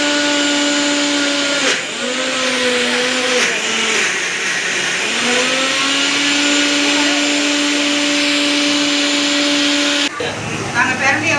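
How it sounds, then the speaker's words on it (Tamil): A mixer grinder grinds fried pirandai with ghee into a smooth paste, a loud steady whine that dips and surges briefly as the load shifts, then cuts off near the end. "நெய்யை போட்டு நாங்கள் நல்லா மையம் அரைச்சி இப்படி எடுத்துக்கணும்"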